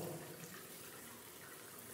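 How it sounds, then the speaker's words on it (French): Steady rush of water pouring from an opened valve into a baptism pool, a continuous even splashing flow heard alone at moderate level. "je vais ouvrir la vanne d'eau"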